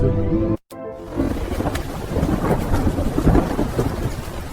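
Heavy rain pours down through a thunderstorm, with a rumbling roll of thunder underneath and a brief dropout near the start before the downpour continues loud and dense.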